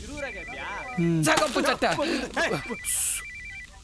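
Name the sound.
phone ringing, wife calling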